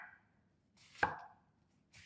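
A single sharp knife chop cuts through an onion on a board, close and crisp, with quieter slicing rustles before and after in a home kitchen.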